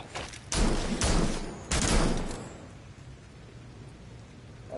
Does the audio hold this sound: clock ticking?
no